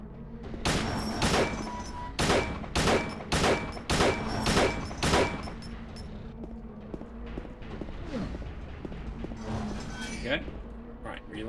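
Gunfire in Silent Hill HD Collection: seven loud, evenly spaced shots ring out in quick succession, followed by quieter scattered clatter and thuds, with a voice talking over the scene.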